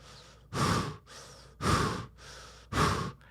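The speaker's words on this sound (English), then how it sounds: "There's your breathing." Three slow, loud breaths through a scuba mouthpiece, each a rushing inhale followed by a softer exhale, regular and close, with no talk.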